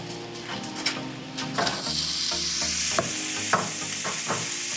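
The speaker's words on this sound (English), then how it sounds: "we have some bacon on the stovetop that is already cooking" Bacon sizzles and crackles in a pan on a stovetop, a close, steady frying hiss broken by several sharper pops and a few stirring scrapes, with no voices.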